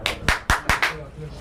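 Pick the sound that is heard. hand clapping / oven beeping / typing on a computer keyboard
hand clapping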